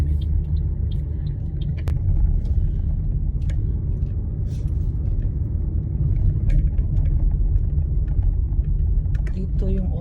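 Interior of a car on a short drive to an old house, a steady low engine and road rumble with occasional light clicks and rattles, while a person talks over it.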